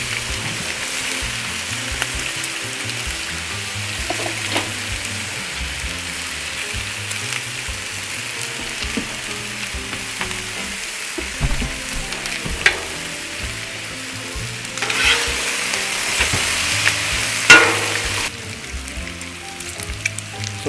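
Ham frying on a Blackstone griddle, a continuous crackling sizzle at moderate loudness, swelling briefly louder toward the end, with no talk.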